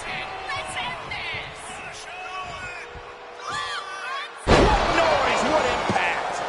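A heavy wrestling slam in the WWE 2K25 video game lands as a sudden loud thud about two-thirds of the way in. Crowd noise swells after it, and game commentary is heard before and after.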